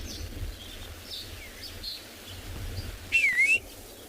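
Red-faced mousebird calling outdoors in the Kalahari at sunrise, a single brief whistled call rising and falling near the end, with faint distant bird chirps earlier over quiet ambience.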